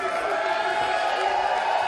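A wrestling crowd cheers at a Jon Moxley match, giving a steady, dense roar with a few whoops throughout, with a commentator talking over it.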